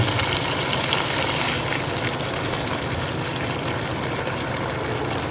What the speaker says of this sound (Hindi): इस कंडीशन में आके हम इसमें शामिल करेंगे कुकिंग ऑयल।